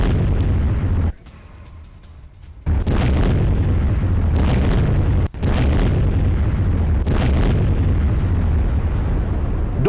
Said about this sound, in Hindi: डोनेस्क में 4 बार क्लस्टर बम बरसाए गए।